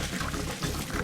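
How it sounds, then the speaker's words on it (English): Cooked pasta drained, its hot water pouring out in a brief, steady close gush. "Just drain the pasta."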